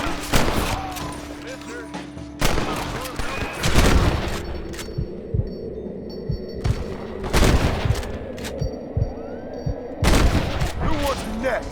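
Gunfire in Red Dead Redemption, loud bursts of shots in irregular clusters with echoing booms between them, a voice briefly heard among the shooting.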